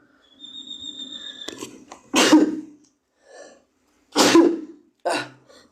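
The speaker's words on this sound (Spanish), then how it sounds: "No, quiero estornudar." Someone sneezes close by in a few loud, explosive bursts, with a quieter breathy lead-in and a short final burst, and silence in between.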